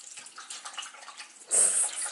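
Water runs briefly, likely from a kitchen tap while supplements are prepared in the morning, starting as a faint trickle and then surging into a louder, close gush.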